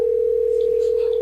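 A phone line gives a steady, loud, unbroken single-pitch tone while a call is placed, with faint voices barely audible beneath it.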